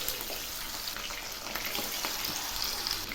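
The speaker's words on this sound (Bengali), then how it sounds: "তেল গরম হয়েছে, এখন আমি মাছগুলো ছেড়ে দিচ্ছি।" Pieces of hilsa fish fry in hot mustard oil in a pan, giving a dense, continuous sizzle and crackle that stays steady and close with no voices.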